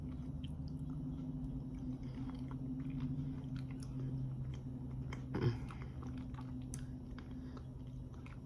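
Someone eats skillet rhubarb pie up close, with soft, moist chewing and biting sounds over a low steady hum and one brief louder bite midway.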